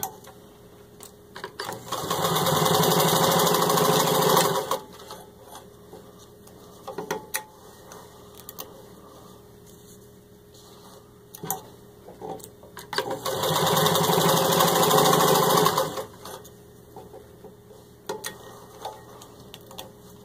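A serviced, rewired vintage Singer 66-18 crinkle-finish sewing machine stitches through four layers of vinyl upholstery, running in two loud, steady motor-and-needle bursts separated by quieter handling pauses.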